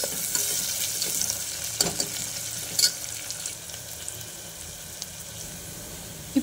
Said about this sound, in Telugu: ఇప్పుడు ఆయిల్ హీట్ అయ్యాక ఒక పెద్ద సైజ్ ఆనియన్, మనం కట్ చేసి పెట్టుకున్న ఆనియన్స్ని దీన్ని యాడ్ చేద్దాం దీంట్లో.